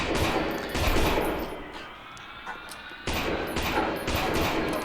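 Ruger gunfire in the video game Lost In Vivo cracks out in loud bursts, a cluster of shots, a short lull with fading echo, then another volley of sharp reports.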